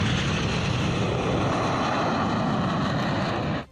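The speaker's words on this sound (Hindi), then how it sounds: "इसके बाद नंबर आया हरकुलिस का, जो एक्सप्रेसवे पर उतरा और फिर कुछ मिनटों बाद वहां से उड़ गया।" Indian Air Force Hercules military transport plane on an expressway runway: a loud, continuous broadband propeller-engine roar, close and steady, cutting off abruptly near the end, with no speech.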